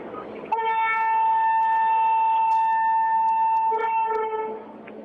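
A Delhi-Agra semi bullet train sounds a long, steady, tonal horn for several seconds as it departs on its trial run, loud and near over a low rumbling background, the blast fading out at the end.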